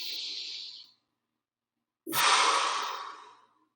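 Two slow, deep breaths drawn into the belly, close to the mic: a soft airy inhale, a pause of silence, then a longer, louder rushing exhale that tapers off.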